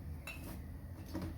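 Coffee beans roasting in a frying pan, stirred slowly and constantly, give a faint, steady rattle and scrape. Light clinks and scuffs stand out now and then against a low background hum, with no talking.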